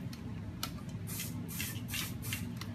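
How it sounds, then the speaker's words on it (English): Aerosol hairspray released in several short hissing bursts onto hair, each spray a soft, close whoosh separated by brief pauses. "I sprayed the hair, always in the direction that the hair grows."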